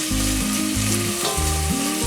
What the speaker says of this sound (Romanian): adăugăm ceapa, o călim aproximativ 2-3 minute